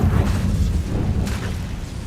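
A Confringo blasting spell goes off in Hogwarts Legacy as a deep, rumbling boom that fills the whole clip, with a sharper burst of crackle near the middle and no voices.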